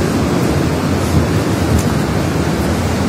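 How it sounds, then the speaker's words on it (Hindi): The Alaknanda river flowing, a loud, steady rushing roar of water that stays constant, close and unbroken. "this is the river called Alaknanda"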